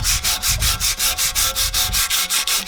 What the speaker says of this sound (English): I got some old sandpaper here from the shop. And what we're going to do is try to sit here and sand all that out of there